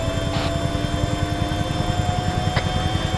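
A helicopter in a video game, a steady whirring rotor and engine drone running throughout at a constant level, with a couple of brief faint clicks over it.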